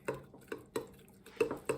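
Sourdough starter is stirred in a container with a utensil, making faint, irregular clinks and taps against the sides over a quiet background.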